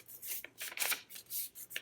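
Sheet of paper folded in half for a craft title page, brisk crisp rustling and creasing swipes in several close bursts, with no voice.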